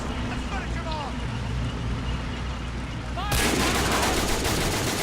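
Rapid 40 mm gun bursts from a battlefield in Men of War Assault Squad 2, repeated dull thuds over a constant din of combat, growing louder and denser in the final seconds.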